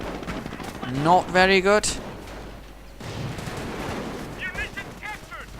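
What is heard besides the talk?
automatic gunfire from a video game battle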